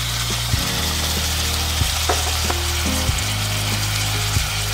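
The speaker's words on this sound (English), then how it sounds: "We'll fry this tomatoes well, okay, until we get rid of the raw taste of the tomato" Finely chopped tomatoes frying with onions and salt in a pan for prawn pulao, a constant close sizzle with a low hum underneath and a few soft clicks of utensil, no talk.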